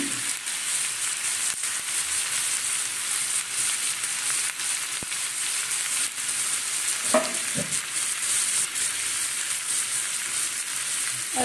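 Potatoes sizzle steadily in a hot frying pan, a loud and continuous close-up crackle, with a few soft knocks near the end and no talking.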